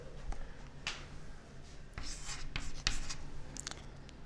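Chalk or marker strokes on a board during a class 7 algebra lecture, with quick scratchy bursts of writing coming in short irregular runs and brief pauses between, close and moderately quiet, with no talking.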